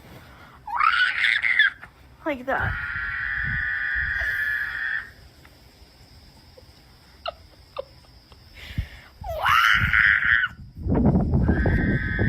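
A played meme video carries several loud, shrill screams in bursts, some drawn out and some rising and falling, with short gaps, a sharp hiccup-like squeal and a brief spoken voice among them.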